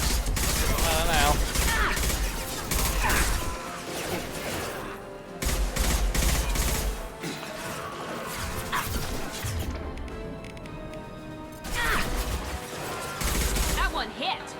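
Repeated gunshots and crashing impacts in Mass Effect Legendary Edition come in dense, loud clusters, with brief lulls between firefights. Voices talk over parts of the action.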